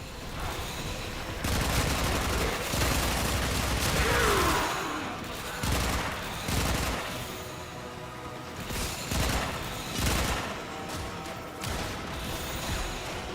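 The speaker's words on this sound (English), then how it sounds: "Stop shooting at me." Weapons fire in a Warframe battle comes in dense, overlapping bursts and rattling volleys, with loud stretches broken by brief lulls and mixed with clanking game mechanisms throughout.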